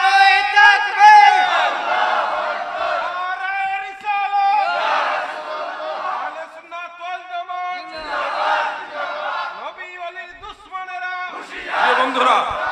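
A large crowd at an Islamic religious sermon roars a rhythmic chant in answer to a takbir call, loud repeated waves of massed voices surging and falling.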